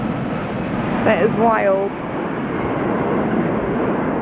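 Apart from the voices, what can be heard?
airplane flying over on a snowy day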